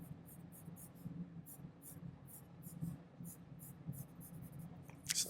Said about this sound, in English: I'm going to take this now, and I'm going to sketch it across